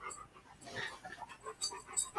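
A dog pants close by, quick soft breaths in an uneven rhythm with a few small whimpers, faint and indoors.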